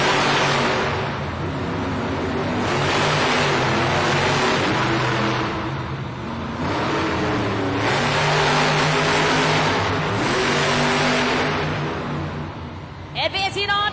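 Monster trucks El Toro Loco and Megalodon rumble and rev at a Monster Jam arena event in Glasgow, a loud continuous engine roar with surging pulses and a large crowd din, a commentator talking over it.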